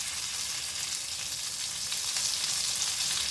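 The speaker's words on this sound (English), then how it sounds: "for the final bit, I'm just going to cook the fat a little bit more" Steak fat sizzling loudly in a hot frying pan, a dense continuous crackling hiss held steady and close throughout.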